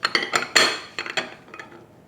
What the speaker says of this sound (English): So I run a knife between the timbale and the walls of the ramekin. Put a plate on top.